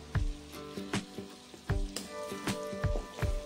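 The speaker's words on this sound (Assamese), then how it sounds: "মই এতিয়া মানে পেটুখিনি ভাজি আছোঁ" Fish belly pieces fry in hot oil in a pan at a home New Year picnic. A steady crackling sizzle runs throughout, broken by regular sharp scraping knocks of stirring, close and fairly loud.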